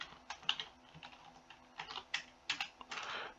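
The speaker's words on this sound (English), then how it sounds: "Boy, I cannot type this morning." Someone types on a computer keyboard, irregular bursts of quick clicky keystrokes with short pauses between them, close and fairly quiet, with no talking.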